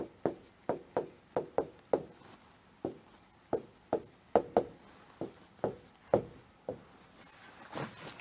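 Rapid handwriting on paper, a series of short scratchy pen strokes in quick, uneven bursts, close and fairly loud with no talking over it.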